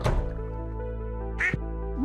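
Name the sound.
duck quacking in Stardew Valley video game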